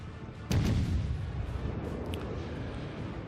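Battleship main-gun fire in World of Warships: a single heavy boom erupts near the start and rolls into a long, dense rumbling tail, with faint crackles scattered through the decay.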